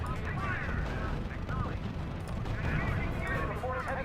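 Gunfire and artillery from a World War II strategy game, a steady rumbling barrage of distant shots and booms under radio-style voices and layered battle noise throughout.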